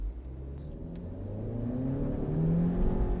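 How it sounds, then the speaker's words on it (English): A 2019 Mazda 3 AWD with a CVT revs under full throttle from a standing start, a steady mid-pitched engine drone rising and swelling in loudness over a few seconds, close and with no talk. "let's see if this wheel spins when I floor it"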